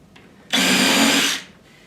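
A power drill drives a screw into pine in one continuous loud whirring burst of less than a second, starting and stopping abruptly, with quiet room tone before and after.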